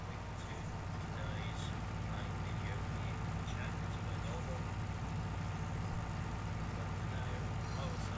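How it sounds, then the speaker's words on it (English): A tractor engine in Farming Simulator 19 strains while stuck, a steady low rumbling drone that holds at constant loudness throughout, with no talk over it. "The tractor's got stuck now."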